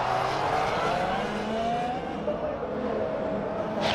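A Sauber Formula 1 car spinning during a 2014 race after contact with Grosjean's car, heard as a loud, sustained engine whine with shifting pitch and tyre noise.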